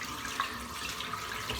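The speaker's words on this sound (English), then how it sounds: "I'll just run a bit of water through the back of the razor and on top of the blades" Tap water runs steadily into a bathroom sink as a safety razor is rinsed under it, a soft, continuous splashing hiss at close range.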